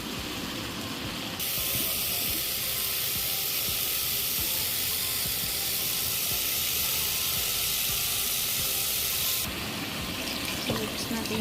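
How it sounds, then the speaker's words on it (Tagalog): Broth is poured into a cooking pot on a stove, making a steady, loud hissing rush that runs for about eight seconds over the simmering clatter of the pot, then stops. "Lalagyan ko na siya ng sabaw."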